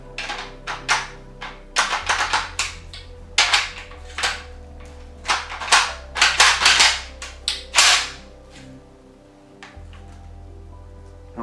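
An Italian M1 Garand rifle's bolt worked against a headspace gauge gives a rapid series of sharp metallic clacks and snaps, close and crisp, over a low steady hum.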